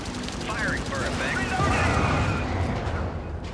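Rapid bursts of video game gunfire and explosions during a shooter match, dense overlapping shots continuing through the whole stretch under steady voice chatter.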